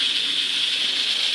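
A pressure cooker on a stovetop burner set to high, loud steady hissing steam close up, continuous and even throughout, with no talk.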